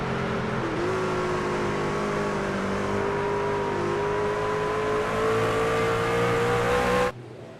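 A race car in a sim racing game at the Milwaukee Mile holds a steady, loud engine whine that rises gradually in pitch as it accelerates in third gear, then cuts off abruptly near the end.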